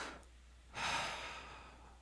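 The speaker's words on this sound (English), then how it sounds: "Take a deep breath." A deep breath drawn in clearly, a soft brief inhale followed by a longer, louder rushing intake and exhale, close and alone with no talk over it.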